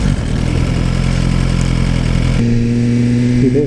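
A motorcycle engine runs loud and close, a throbbing rumble that shifts partway through into a higher, steadier tone as the bike accelerates smoothly.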